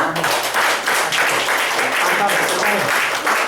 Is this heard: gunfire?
no